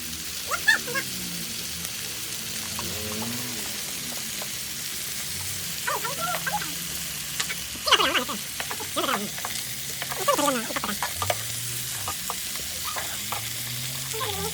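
Pork belly sizzling on a grill plate with minari at a family meal, a steady close frying crackle throughout with people chatting over it.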